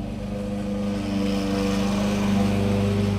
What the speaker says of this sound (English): somebody's outside mowing the grass now, so that's what you hear